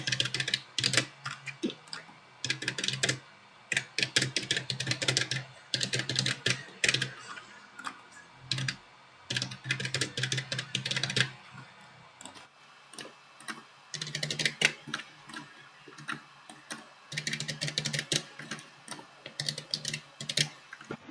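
Typing an address into an online form on a computer keyboard: steady close-up runs of rapid key clicks in bursts with brief pauses, fairly loud and alone with no talking.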